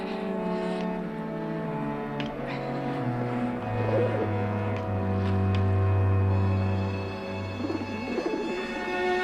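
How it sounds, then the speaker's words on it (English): A pigeon coos softly and repeatedly, set against a steady low engine or vehicle drone with a tonal hum, close and clear with no talking. "Dad, it's only a pigeon."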